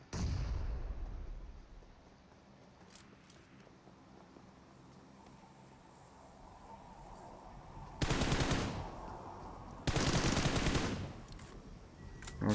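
M416 rifle gunfire in PUBG Mobile, two loud sustained bursts of rapid automatic fire, each lasting about a second and a half, over low game ambience with faint scattered shots earlier.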